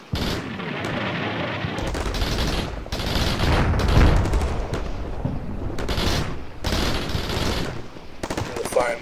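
Artillery fire mission landing in the Combat Mission Shock Force war game: a sustained barrage of heavy, booming explosions and rumbling impacts rolling on for several seconds, loud and dense, with bursts overlapping one another.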